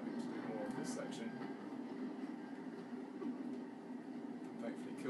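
Steady rumble and rattle of a train in the video game Uncharted 2: Among Thieves, a continuous rolling drone with faint clicks throughout, under constant talking.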